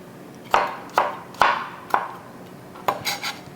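Knife slicing garlic on a board: a handful of sharp, close taps spaced about half a second apart, then a short quicker cluster.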